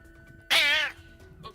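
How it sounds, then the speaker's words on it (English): Clancy, an old male cat, lets out one loud, angry meow with a wavering pitch that lasts about half a second against a quiet room, then a fainter sound follows. "You've come in listening to an angry old man cat."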